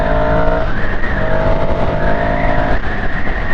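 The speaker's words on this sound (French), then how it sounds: "Je vais pouvoir m'engager, j'accélère un peu fort" A car accelerates hard while merging onto a motorway, its engine note rising through the gears as a loud, continuous roar with tyre and road noise throughout.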